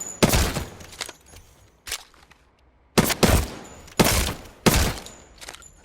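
Hip-fired gunfire in the Apex Legends video game on a PS4 Pro with Nacon controller settings: loud, close bursts of rapid shots, separated by short pauses, with no voices.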